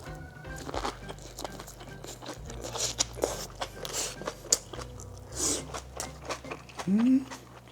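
Crunchy bites and chewing of napa cabbage rolls dipped in vinegar soy sauce, close-up, with repeated crisp crunches and soft mouth sounds, a few louder crunches near the end.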